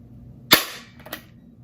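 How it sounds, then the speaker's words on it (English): A dad's manual staple gun fired empty, one sharp loud snapping clack followed by a softer second click a moment later, close up in a quiet room. "I have my dad's staple gun, I don't know how to use it"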